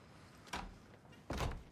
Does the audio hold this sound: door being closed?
yes